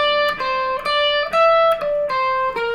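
An electric guitar note picked at the 17th fret without a bend, struck about six times in a steady rhythm, each clear tone ringing briefly and alone.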